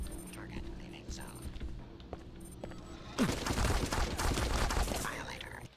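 An automated security turret in Deus Ex: Invisible War, with a soft hum and electronic beeps giving way to a sudden sustained burst of loud, dense rapid fire that runs to the end.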